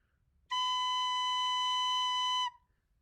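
A single sustained recorder note B, played with first finger and thumb, holds clear and steady for about two seconds in a quiet room, then stops cleanly.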